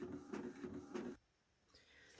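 A home printer feeding out sheets, soft rhythmic mechanical pulses repeating about three times before the motor stops and a faint click follows, quiet and close with no voices.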